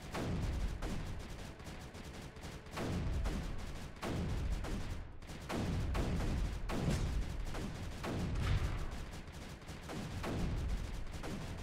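Bertha cannon firing in the strategy game Creeper World 3: a steady series of heavy, booming shots about once a second, each a loud blast that decays into a rumble, continuous over a noisy battle backdrop with no voices.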